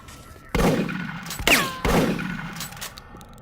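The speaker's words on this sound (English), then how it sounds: "if you fire a shotgun in an enclosed environment like this, God, it would be deafening" Shotgun blasts in the Doom 3 Phobos mod video game, fired in an enclosed space: two loud, booming shots about a second apart, each with a long reverberant tail, followed by a mechanical pump or reload clack between them.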